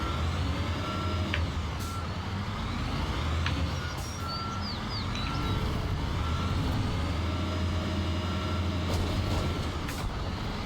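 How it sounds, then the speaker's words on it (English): A heavy truck rumbles and whines loudly while backing up in the construction video game Construction Simulator Europe, with a steady engine drone, faint reversing beeps and occasional hissing air-brake bursts. "Since we can, let's back up this truck to make the lift easier."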